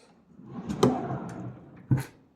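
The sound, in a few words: cabinet drawer being closed, held shut by Velcro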